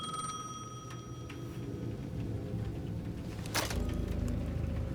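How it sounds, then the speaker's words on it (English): A payphone at the edge of a plaza in the video game Alan Wake 2 rings with thin repeating bell tones over a low ambient drone, fairly faint, followed by a sharper clatter near the end. "The payphone at the edge of the plaza was ringing again."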